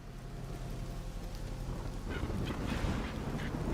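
Cartoonish bird squawks and honks from the video game Rat Trap, a goose-like fowl sound rising midway over a steady noisy background with no talking.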